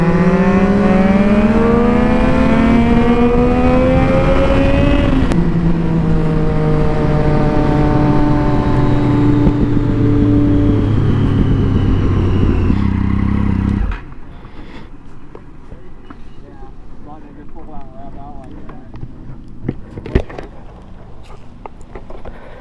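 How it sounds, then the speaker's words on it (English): Kawasaki H2 motorcycle with full fairing revving close by, engine pitch climbing steadily through the power band for about fourteen seconds, then cutting off sharply as the clutch drops, leaving a quieter idle with faint clicks. "Let it rev up to the meat of the power band and then drop."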